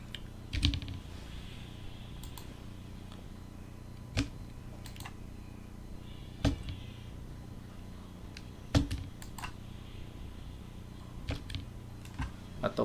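A computer keyboard is pressed in sparse, separate clicks spaced a second or more apart, with a few quick double taps, over a quiet steady background hum.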